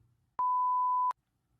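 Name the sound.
function generator signal output from smartphone app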